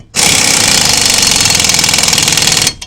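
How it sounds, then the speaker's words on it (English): A loud impact wrench runs trailer hitch bolts in with one sustained, rapid hammering burst lasting over two seconds, starting and stopping abruptly, close up and alone. "I'm going to take my impact and run these in"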